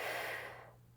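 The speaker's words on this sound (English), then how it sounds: "Take a big breath" A single deep inhale during a gentle beginner morning stretch session, soft and close, swelling at first then tapering off into quiet.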